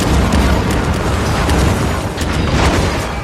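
A chain of explosives detonates in a film battle scene, one continuous roaring wall of deep booms and crackling blasts, loud and sustained with no pauses.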